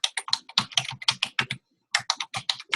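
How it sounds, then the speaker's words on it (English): Rapid clattering keystrokes on a computer keyboard during an online video meeting, a close steady burst of typing with one short pause, no voices. "Somebody's typing."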